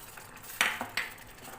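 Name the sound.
stirring tamarind dissolved in water in a bowl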